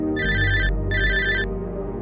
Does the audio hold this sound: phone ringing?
yes